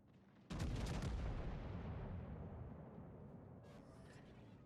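Heavy naval gunfire in World of Warships, a battleship broadside erupting at once into a loud, booming blast that rolls and decays slowly over several seconds, with a faint secondary crackle near the end.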